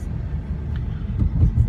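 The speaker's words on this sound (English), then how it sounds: "we're driving to Gardner White" A car rolls along the road with a steady low engine and tyre rumble, swelling slightly toward the end, with no one speaking.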